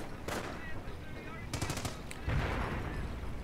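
Rapid bursts of machine gun fire, including an MG42 and a heavy US MG, rattle in a World War II shooter battle on a city outskirts map, with sharp separate shots and echoing reports at mid distance.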